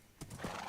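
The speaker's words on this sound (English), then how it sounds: "we got a horse!" A Minecraft horse in FTB StoneBlock 3, a short burst of game clip-clop and a whinny, fairly faint and heard alone.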